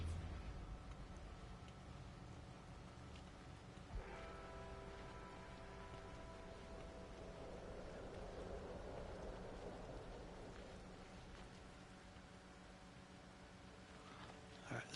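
Steady rain hiss with low rumbles of thunder from an approaching storm in the video game No Man's Sky, continuous and moderately loud throughout, with game ambience and faint voices in the background.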